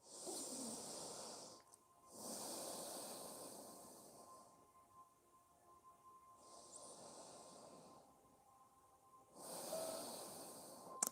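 Slow, deep breathing during a yoga stretch, several long airy inhales and exhales separated by quiet pauses, close and soft.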